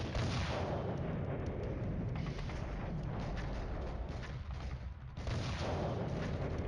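Artillery fire in the Cold War wargame Flashpoint Campaigns, a steady loud barrage of deep booms and rumbling blasts rolling continuously with no speech, easing briefly before picking up again.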